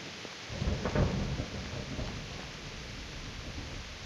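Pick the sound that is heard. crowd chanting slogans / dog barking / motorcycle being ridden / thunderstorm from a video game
thunderstorm from a video game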